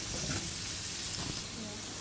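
Onions and mushrooms frying in a skillet, a steady close sizzle and crackle that holds evenly for the whole moment with no talk over it.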